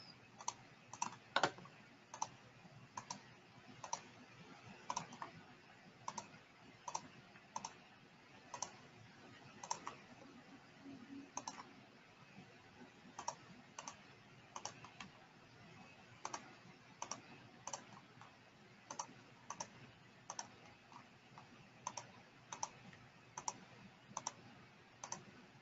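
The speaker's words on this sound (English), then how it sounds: "I'm just left clicking around to capture these points" A computer mouse is left-clicked over and over in a steady, evenly spaced series of crisp, quiet clicks, heard alone against a soft background hum.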